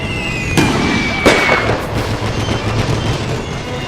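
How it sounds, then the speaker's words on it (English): Gunfire crackles in Napoleon Total War: The Great War, a World War I battle mod with Great Britain's troops under fire: two sharp shots ring out over a steady battlefield rumble. "They're shooting at my men!"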